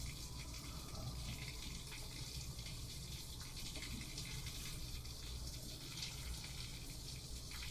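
Steady, dense rush of heavy rain pouring down outside, an unbroken hiss of falling water heard from indoors, constant and moderately loud.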